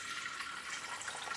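Filtered water pours steadily into a Thermomix bowl on the scale, a continuous bright hiss of running liquid with no talk over it.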